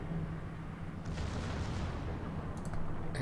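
Naval guns firing shells in World of Warships, heard as a continuous low rumbling barrage with a sharper burst of reports near the middle, dense and loud throughout without any clear single shots.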